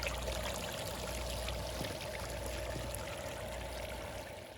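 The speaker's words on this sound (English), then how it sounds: "You could crack a window at night and hear the trickle of the water feature in the landscape." Water trickling over rocks in a landscape water feature beside a paver patio and fire pit, a soft, steady burble and splash that holds constant and fades slightly at the end, with no talk.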